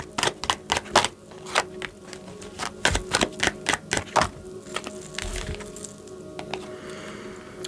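Tarot cards being shuffled and drawn, a run of crisp, close slapping riffles in quick bursts with short pauses, then softer rustling and sliding as cards are pulled from the deck.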